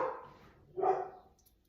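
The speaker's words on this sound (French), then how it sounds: "Mes chiens ne sont pas contents. Il doit y avoir quelqu'un qui passe devant." Two short, distant dog barks sound from indoors as the dogs react to someone passing outside, faint and separated by a brief pause.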